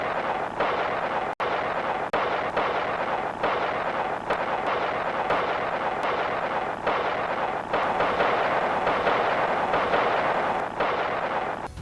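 Heavy artillery shelling in the mountain jungle of Route 9 during Lam Son 719 in the Vietnam War: a dense, unbroken roar of blasts and rumbling, with one sharp crack near the start.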